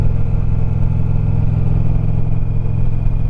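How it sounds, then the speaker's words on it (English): Loud motorcycle exhaust pipes droning steadily while riding the Tail of the Dragon road, a constant close, throbbing engine note with no talk. "Hopefully my pipes are not just too loud that it's blaring everything else out"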